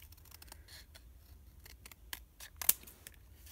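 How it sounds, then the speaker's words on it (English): Scissors snip paper for a journal craft, cutting along a straight line in a series of quiet, crisp blade closes at uneven intervals, close and fairly soft, with one sharper cut near the end. "I'm going to cut across my straight line at the top"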